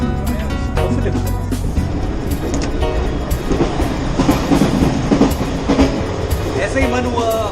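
An express train on Egyptian rails runs with a continuous, loud rumble and repeated clickety-clack beats of the wheels passing rail joints, heard from inside the carriage, with faint voices under the noise.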